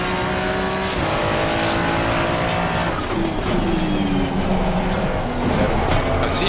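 Ferrari race car at Bathurst in Assetto Corsa Competizione, a loud engine roaring and shifting through falling and rising pitch, with tire squeal near the end and speech faintly mixed in.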